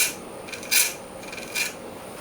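A lathe tool makes pull cuts on turned acrylic for a night light, giving two raspy scraping bursts over a steady hiss of the spinning workpiece.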